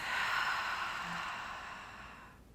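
A long cleansing exhale through an open mouth during yoga, one breathy sigh close to the mic that starts strong and gradually fades out.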